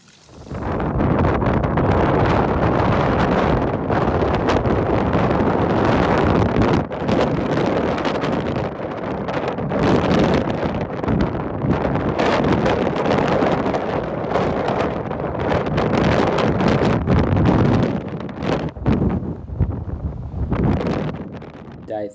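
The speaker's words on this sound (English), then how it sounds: "It was freezing cold as the wind was ripping through" Strong, freezing wind on Frenchie's Peak buffets the microphone in loud, continuous roaring gusts that swell and drop, with faint voices speaking at times beneath the rumble.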